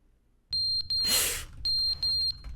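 A fire alarm in the video game The Stanley Parable gives shrill, evenly spaced electronic beeps in short bursts, broken in the middle by a brief loud hissing rush, with no talking.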